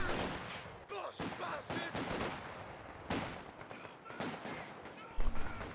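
A Vickers machine gun in a Company of Heroes 2 winter match fires in rapid bursts among other battle noise, with a louder, closer burst near the end.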